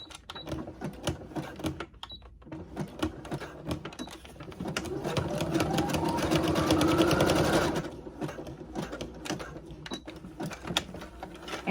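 A sewing machine runs a zigzag stitch through ribbon on a bridesmaid dress, with a steady rapid mechanical whir that rises into a louder sustained burst mid-clip and then returns to short stop-start runs.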